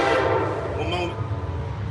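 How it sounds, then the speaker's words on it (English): A train rumbles past nearby with a loud, low roar and a brief horn note, while someone talks under the noise. "Gonna let this train go by."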